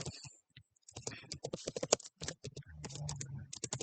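Fingers type text into Microsoft Word on a computer keyboard, giving close, quick, irregular key clicks in bursts with short pauses between them.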